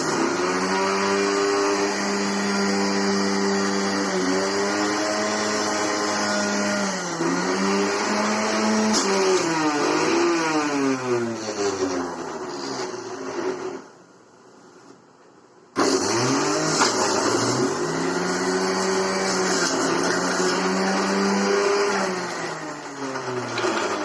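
BPL 500 W copper-motor juicer grinding beetroot, a loud close whine whose pitch dips and climbs as pieces are pushed in, cutting out briefly before starting up again.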